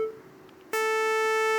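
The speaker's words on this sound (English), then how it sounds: "a triangle wave" A steady synthesized triangle-wave tone from a JavaScript Web Audio oscillator in a virtual keyboard app switches on abruptly partway through and holds loud and even to the end, preceded by a faint quieter tone.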